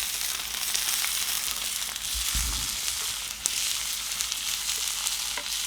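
An American or A5 wagyu steak sizzles in a hot pan, a steady close hiss of frying with a brief low thump and a few crackles, no talking.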